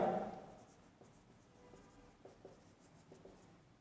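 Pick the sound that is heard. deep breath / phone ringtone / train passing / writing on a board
writing on a board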